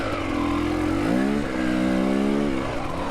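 A KTM 300 XCW dirt bike engine drones steadily and close, its pitch rising and settling slightly as the rider works the throttle on a rocky trail ride, loud and continuous with no talk.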